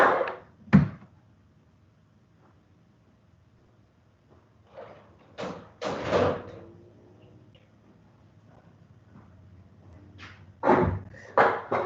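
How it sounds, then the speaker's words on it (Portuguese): A room door being shut on a cold, windy day, heard as a few sharp thumps and knocks spread across quiet stretches, the loudest bursts close and abrupt. "Então eu fechei a minha porta"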